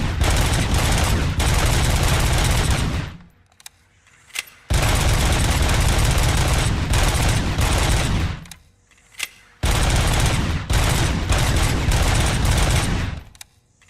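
Rapid automatic gunfire from a weapon in the video game Robocop: Rogue City comes in three long, loud sustained bursts, separated by short gaps with a few isolated shots.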